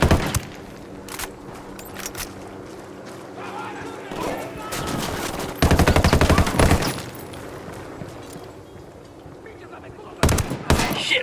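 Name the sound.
gunfire from a sniper in the video game Ghost Recon Wildlands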